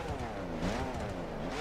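Nissan Fairlady Z 432 engine in The Crew game, Perf Spec tuning, revving steadily with a deep, low-pitched drone that rises and dips slightly, loud and continuous without speech.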